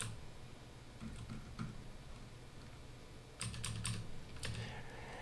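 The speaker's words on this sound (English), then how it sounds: "Right now I'm using my keyboard to control how much I pull the sails in." Light, irregular clicking of a computer keyboard being typed on, soft and close, with a brief cluster of sharper keystrokes near the end and no talking.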